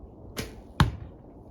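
Two sharp twangs sound from an Egyptian Duoflex bow as arrows are shot, the second louder with a short buzzing rattle after the release, close up over low background hiss.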